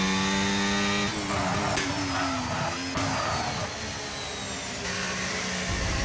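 A McLaren race car in a racing video game at the Brazilian Grand Prix, its engine whining at high revs with rising and falling gear pitches, a sustained loud drone through the corners.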